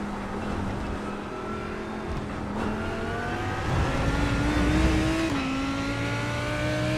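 Racing engines drone and shift pitch as cars overtake in the iRacing simulator, a steady whine that steps up and down through gear changes with no voices.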